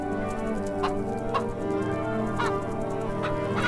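Chickens cluck in a coop in the video game Bee Simulator, several short bird calls over a steady ambient background with no talking.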